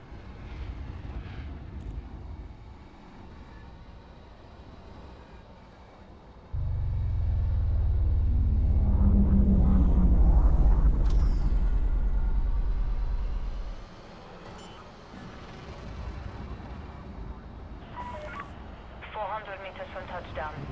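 A spaceship in a video game descends onto a landing pad. Its engine swells into a heavy, deep roar that holds for several seconds before cutting off. Voices talk before and after the roar.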